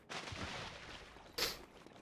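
A cannon in the video game Star Fox Adventures fires, a sustained rumbling blast followed by a sharp, bright burst near the end, fairly faint overall with no talk.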